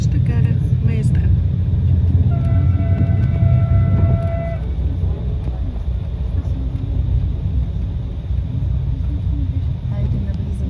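A Bulgarian passenger train pulling into Mezdra station gives off a steady, loud low rumble of wheels and carriages. A brief tonal whine rises over the noise, and a voice talks during the run.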